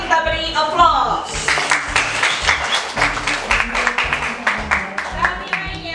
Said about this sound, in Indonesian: mewakili kelompok visual kita beri aplaus